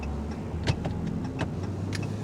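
Moderate traffic rolls along Highway 281 near Marble Falls, Texas, as a steady background hum of passing vehicles with a few faint clicks and bumps, heard from a stopped car.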